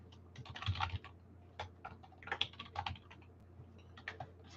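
Typing team names on a computer keyboard: close, irregular bursts of clicky keystrokes with short pauses between words, alone without talk.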